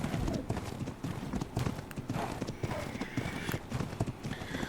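Horse hooves clip-clop steadily in Ark Survival Evolved, a dense rhythmic patter of steps with faint snorts and rustling, moderately loud throughout.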